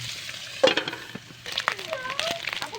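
Boiled pork pieces sizzle in hot oil in a pan for Filipino pork adobo, a soft crackling fry with brief stirring clatter and a voice faintly in the background.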